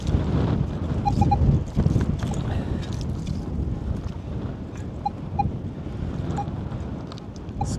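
Steady wind buffets the microphone out in an open harvest field, a continuous low rumble of gusts that swells and dips for the whole stretch with no voices.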